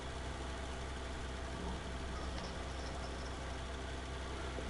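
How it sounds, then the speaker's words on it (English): Tractor engine idling in the Farming Simulator 19 video game, a steady, even low rumble held without change throughout, with no talking over it. "Come on, tractor, move."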